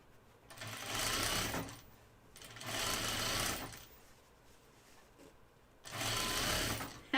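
A domestic sewing machine stitches French seams on a flight suit underarm in three bursts of rapid whirring, each lasting a second or two and separated by short pauses, close and steady.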